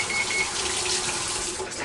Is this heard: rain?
no